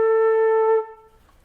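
A lone flute sounds the note A, starting at full strength and holding steady before tapering off, close and clean with no other sounds.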